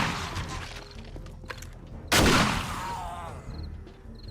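Gunfire in the zombie-survival game 7 Days to Die, a dense burst of shots with a loud sharp blast near the middle, set against a busy background of game noise.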